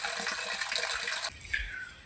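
Water from a full tank overflows and pours down on a farm, a steady loud gushing splash that thins into a lighter trickle partway through.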